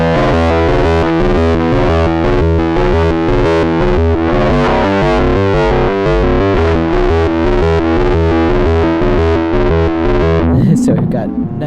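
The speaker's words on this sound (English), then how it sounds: "I'm going to play the guitar and it's going to trigger more of the sound." Electric guitar low E note fed through an ARP-2600 synthesizer with ring modulation, a dense, distorted, steadily pulsing rhythmic texture that holds loud for about ten seconds before breaking into a noisy burst at the end.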